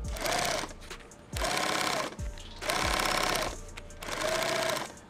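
A sewing machine runs fast in four long stitching bursts with short pauses between them, loud and close, while building a 40 mm two-quart lid.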